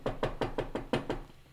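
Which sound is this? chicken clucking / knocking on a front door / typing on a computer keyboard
knocking on a front door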